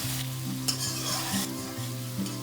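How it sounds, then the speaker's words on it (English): Mushrooms sauté in a pan for a bok choy stir-fry, giving a continuous close sizzle and fry with a few stirring scrapes, no voices. "And saute it until it turns golden brown, as mushroom needs to be cooked properly."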